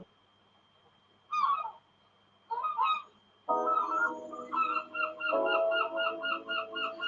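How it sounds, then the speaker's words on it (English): Seagulls call in short, bright squawks, first two separate bursts, then a dense run of repeated cries over a steady tonal hum. "The seagulls are actually part of the video, not the music."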